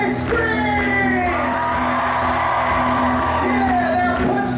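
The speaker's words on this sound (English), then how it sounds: "okay, now everybody scream" A concert audience at a live Christian rock show screams, whoops and cheers together in a sustained, loud roar that fills the space without a break, with scattered individual shouts standing out from the crowd noise.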